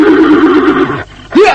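A horse neighs loudly and close, a long wavering whinny that fades out, then a short fresh rising snort or whinny begins after a brief pause.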